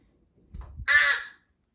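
A handheld crow locator call for turkey hunting is blown once, a single loud, harsh caw following a few soft low handling knocks, close and alone with nothing else around it.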